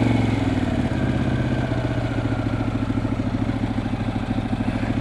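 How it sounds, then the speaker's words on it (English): A Harley motorcycle engine idles steadily while warming up on a cold November road trip, a loud close thumping rumble with a fast even pulse and no voices. "set up here and let the bike warm up a minute"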